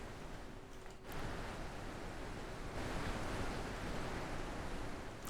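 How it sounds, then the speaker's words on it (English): A loud river in The Witness rushes steadily as broadband water noise, dense and continuous. It swells slightly after the first second and holds alone with no voices. "River is so loud."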